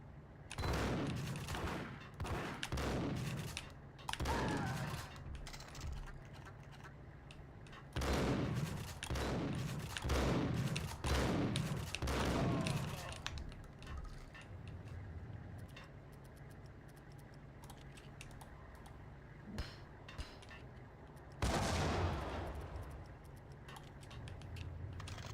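Shotgun blasts from the video game Max Payne, fired in bursts of several loud booming shots, then a pause, another cluster, and a single late blast over a steady game backdrop.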